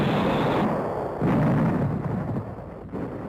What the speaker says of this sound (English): Heavy mortar and rifle fire blocks the approaches to the field